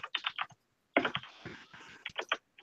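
A computer keyboard clatters in quick, close bursts of key presses, separated by a short pause and a stretch of softer clicking.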